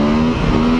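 A KTM EXC-F 250 enduro motorcycle pulls hard in third gear, its engine a loud, close, steady high-pitched drone that holds for under a second with no talk.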